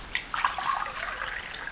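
Water pours out and splashes onto a floor in a short, close, fairly quiet rush with scattered drips and no voices.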